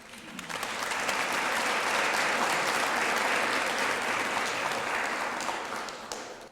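A seated audience at a Citizens of the Year ceremony claps steadily for several seconds to welcome a speaker, rising quickly, holding even and fading at the end.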